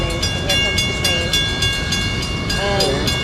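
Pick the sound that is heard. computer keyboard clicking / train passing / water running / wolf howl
train passing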